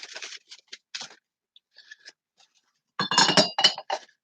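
A cut glass sugar dish gives a series of light, bright clinks and taps, sparse at first and then a denser cluster of close ringing knocks, with no talking.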